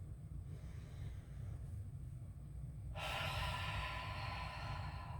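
Deep, audible breathing during a supported split squat: a steady, noisy inhale-exhale rhythm, with a strong, breathy exhale about midway through, close to the mic.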